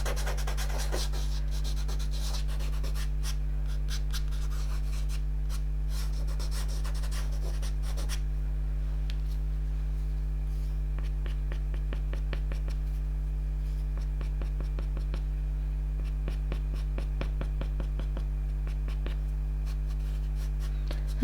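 Soft pastel strokes scratching across paper while a cat portrait nears completion, a steady dry rubbing texture that runs continuously, busier and scratchier at first, then lighter with short repeated strokes, over a constant low hum.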